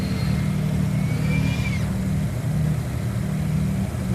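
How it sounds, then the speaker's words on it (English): The twin engines of a Beechcraft Baron B58 in FSX drone loudly and steadily, with a rising whine briefly sweeping upward as power increases, then holding at a constant hum. "Increasing the power because we're about to level out."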